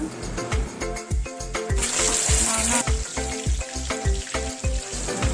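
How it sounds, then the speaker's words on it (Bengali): Cubes of paneer fry in oil in a kadai with a loud, steady sizzle, broken by rhythmic scraping and stirring strokes close by and a brief burst of sharper hissing partway through. "কড়ায় পরিমাণ মতো তেল দিয়ে পনিরগুলিকে ভেজে তুলে নেব"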